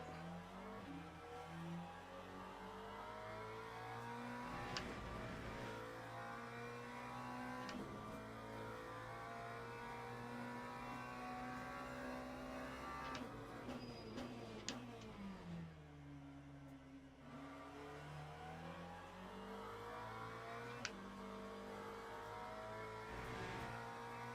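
A Mercedes race car engine in the Le Mans Ultimate sim racing game revs through the gears, rising and falling pitch sweeps with sharp shifts and a deep drop while braking into a corner.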